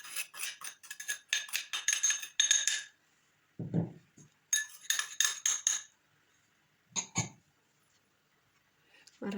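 Bursts of metal-on-bowl clinking and scraping come as cookie dough for shortbread is stirred in a bowl, broken by short pauses and a few dull thuds, all fairly close.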